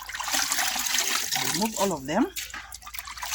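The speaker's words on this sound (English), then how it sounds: "The drainage, the water goes down on the tray." Water drains from freshly washed pumpkin leaves onto a tray, a steady hissing trickle heard close up beneath a voice as she talks.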